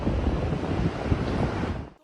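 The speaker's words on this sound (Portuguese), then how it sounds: "Em Salvador, uma tromba d'água no mar assustou os moradores." Waterspout over the sea in Salvador, with a steady roar of wind buffeting the microphone and crashing surf filling the scene, loud and continuous before fading out at the end.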